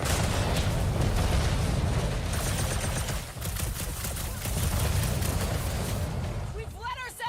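Sustained gunfire and blasts fill a Guardians of the Galaxy action fight, loud and continuous, with booming impacts underneath and speech mixed in.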